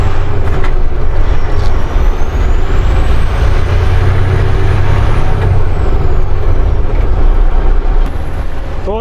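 Steady, loud road noise from inside a moving truck cab: constant engine drone and rumbling tyres, with passing traffic and air-brake hiss blending into the wash.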